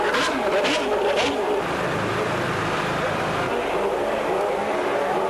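Formula 1 cars from the 1992 season roll up one by one to their grid positions before the 16th and final race, a steady blend of engine noise and ambient crowd din with brief sharper bursts early on.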